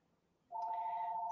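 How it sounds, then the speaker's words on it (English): A telephone rings in a room where someone is embroidering quilt blocks: a steady electronic ring tone starts abruptly, stays loud and continuous, and has no talking over it. "the phone's going to ring and I can't get to it"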